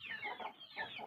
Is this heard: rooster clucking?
yes